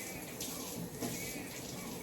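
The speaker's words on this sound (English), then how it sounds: "so I get the warm water on" Warm water pours from a kitchen tap into the sink, a steady close hiss and splash that carries on throughout without pause.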